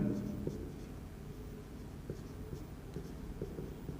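Chalk or a marker scratches on a board in a chemistry class on naming coordination compounds, with faint repeated strokes and taps over a few seconds under a quiet room tone.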